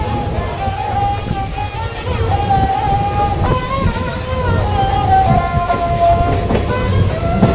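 A passenger train rolls along the rails on a journey from Delhi to Uttarakhand, a loud steady rumble with rhythmic clicks and squealing wheel tones heard from inside the carriage, faint voices now and then.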